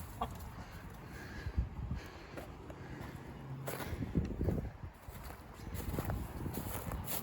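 A chicken clucks intermittently nearby over several seconds, scattered short calls and rustling against a faint outdoor background.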